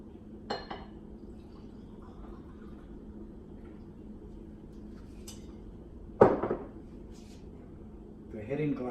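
Glass and dishes clink briefly at a kitchen counter while a wine glass for Cabernet Sauvignon is fetched, with a sharp clatter near the end standing out over a quiet room hum.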